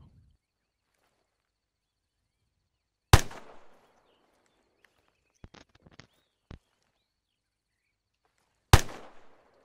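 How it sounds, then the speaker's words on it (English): Slow, deliberate rifle fire for suppression in Arma 3: two loud single shots about six seconds apart, each with a short echo, and a few faint clicks and taps between them. "demonstrate deliberate fire for me"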